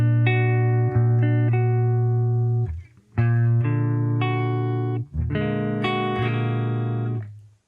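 An electric guitar plays a three-note chord while the index finger mutes other strings, giving a series of clean sustained chord stabs with brief pauses between them, close and clear.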